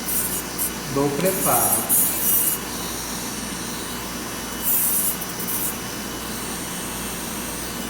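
A dental bur grinds away excess material from a temporary crown, giving short rasping, whirring bursts against a steady background hum while a voice speaks briefly.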